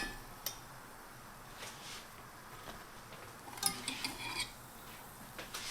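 Keto low-carb dumplings are flipped gently in a pan, giving faint, sparse clinks and soft scrapes of utensil against cookware, with a few quick clicks clustered near the end and no talking.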